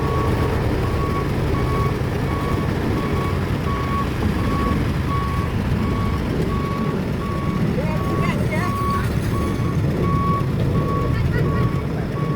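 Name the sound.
truck reversing with reversing beeps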